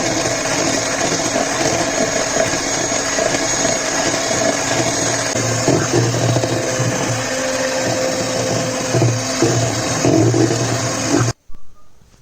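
An electric mixer whirs steadily and loudly as it beats powdered sugar into cake batter. The motor drone is continuous and close, then it cuts off abruptly near the end.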